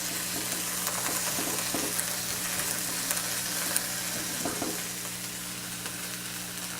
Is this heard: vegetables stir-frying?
yes